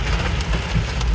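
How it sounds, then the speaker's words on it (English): Hail falls steadily in a southeastern longleaf pine flatwoods setting, a dense, loud patter of hard drops striking surfaces without a break. "5 hours later and it's hailing now"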